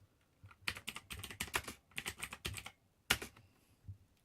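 Rapid bursts of keystrokes on a BBC Micro computer keyboard, clattering in uneven runs with short pauses and one sharp isolated key press near the end, close and fairly quiet.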